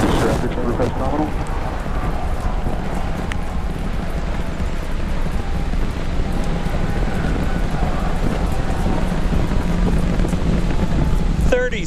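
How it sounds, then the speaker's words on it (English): Super Heavy booster of SpaceX Starship roaring in flight with all 33 Raptor engines lit, a dense, steady, loud broadband rumble filling the whole stretch with a faint voice beneath it. "We are seeing 33 out of 33 Raptor engines ignited on the Super Heavy booster"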